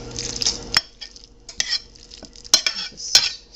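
Spoon or spatula stirring corned beef hash with jicama in a pan, a string of scraping, clinking strokes with a light sizzle beneath, fairly close and with no talking.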